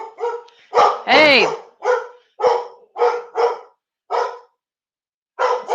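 Sally the dog barks in short sharp bursts, about nine loud yaps with gaps between them, close by, with a voice briefly calling out.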